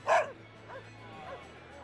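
A dog in the video game Tales of Berseria gives one sharp, loud bark followed by two softer whining yips, close and clear over a quiet hum.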